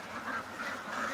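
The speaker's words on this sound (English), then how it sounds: "The fact that the ducks freaked out" Ducks quacking in an agitated burst, a dense, continuous clamor of overlapping calls at moderate distance, with no talking.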